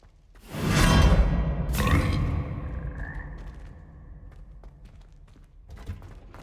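A frog teleport in the Hogwarts Legacy video game lets out a loud whooshing burst with a croaking, warbly edge. A second swoosh follows, then a fading rumble and faint tonal chirps, with no talking.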